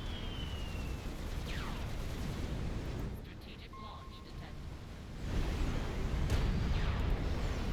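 Gunfire and explosions from Supreme Commander Forged Alliance rumble on continuously, with booms and rapid volleys that swell louder toward the end, while a player speaks over the battle.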